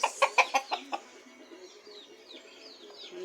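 Domestic rooster and hens near a hen with her chicks, a quick run of five or six loud clucks followed by softer, fainter peeping calls.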